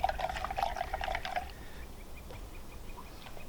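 Active mead from an earlier batch poured for a Viking-style brew, a brief liquid splash and trickle over about a second and a half, then fading to quiet drips.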